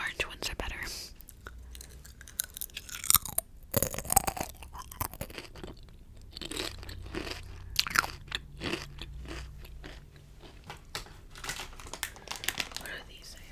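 Close, crisp crunching and chewing of whole grain corn chips, with bag crinkling and soft whispered talk in between, steady and intimate.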